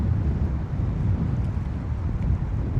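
A strong easterly wind at sea during a fishing session, roaring and buffeting the microphone in a continuous low rumble with no let-up.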